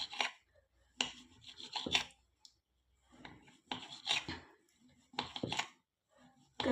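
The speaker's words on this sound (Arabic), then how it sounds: "كنجيب موس كما كتشوفوا ونبدا نقطع" A knife cuts through cooked trید flatbread dough in irregular bursts of rasping, scraping strokes, close and fairly quiet, with short silent gaps between them.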